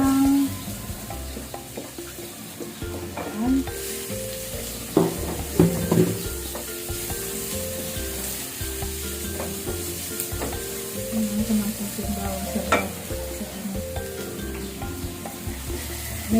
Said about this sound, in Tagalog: Medyo iluluto ko lang siya sa mantika.